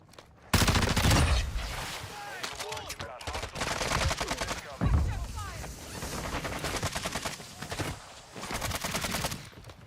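Video game gunfire in DMZ: sharp, rapid bursts of automatic shots crackle and echo repeatedly over ten seconds, loud and close, with a voice speaking in between the volleys.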